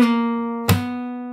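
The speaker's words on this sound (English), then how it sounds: "So you play this note on the 4th fret and slide down to the 3rd fret. And then you bring it back up to the 4th fret and you play the note with a slap." A single sustained fingerstyle guitar note rings clearly, slides down a fret and back up, then a sharp slap strikes it before it continues to ring alone.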